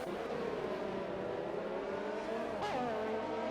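Race cars in a racing video game run nose to tail in a line, their engines droning steadily together with a rising whine as one pulls close, loud and continuous with no talk.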